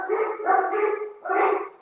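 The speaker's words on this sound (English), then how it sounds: "Dogs are home." Dogs barking at home, two close, loud bursts of yipping, howling barks with a short pause between them, heard alone.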